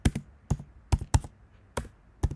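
Keys clack on a computer keyboard as code is typed, sharp close taps arriving in quick bursts of two or three with short pauses between them.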